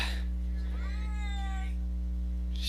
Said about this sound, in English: She's still meowing.